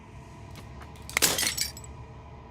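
A single burst of glass shattering in the game Slay the Princess, a bright crash with tinkling fragments that rings out and fades within half a second over a low quiet ambient hum.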